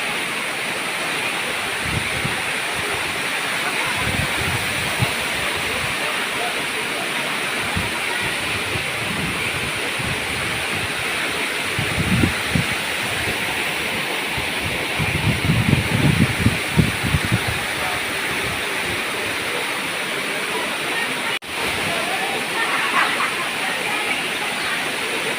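Steady roar of Dampalit Falls, a mountain waterfall in Los Baños, runs as a continuous hiss through the whole stretch, with faint low rumbles and handling noise now and then.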